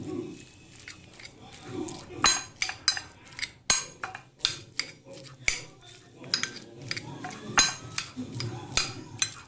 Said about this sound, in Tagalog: we will now flatten the salted egg